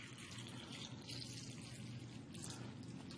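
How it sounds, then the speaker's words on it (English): Tap water pours into a bowl in a soft, continuous splashing trickle, quiet and steady throughout. "we're just going to simulate that by pouring some tap water in here"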